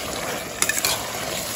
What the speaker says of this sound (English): Give it a good mix once again.